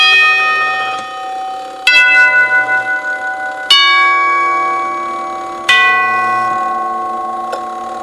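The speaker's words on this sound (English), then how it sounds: "When I push the button, you'll probably be able to hear the solenoid pull the moving arm up, and then there's a pause, and then it drops, and the chime rings." A NuTone Series 1 Trinity four-note door chime, rebuilt, struck by its solenoid plunger after a push-button press: several bright tube tones ring out at intervals, each strike followed by a long, shimmering decay, close and clear with no talking.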